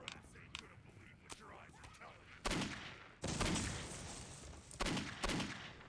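Gunfire in Postal 2 comes as scattered shots followed by several sustained bursts of rapid fire. The shooting is fairly faint and distant, with quieter game sounds between the volleys.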